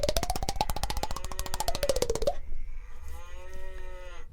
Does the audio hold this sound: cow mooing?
yes